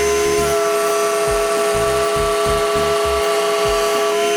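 A power tool cuts a 3/4-inch groove down the centre of a wooden shelf, making a loud, steady tonal whine with repeated low thumps as the cut works through the wood.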